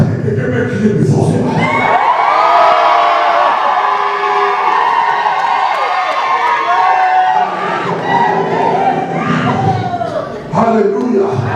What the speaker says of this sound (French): Est-ce que quelqu'un peut crier plus fort?